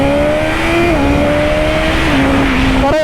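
A BMW S1000RR sport motorcycle in dynamic mode accelerating hard, its high-revving engine loud and close, pitch climbing through gears with brief shift dips and a final rev rise.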